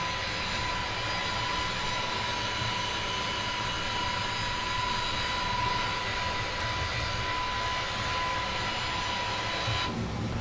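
An iniBuilds A320neo airliner's jet engines climbing after takeoff in a flight simulator, a steady, loud broadband roar with a thin whining tone held throughout and no talk.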